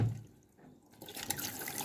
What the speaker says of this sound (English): the water is flowing through into the system